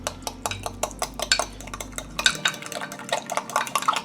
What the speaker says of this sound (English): we're just going to mix the egg yolks and the paste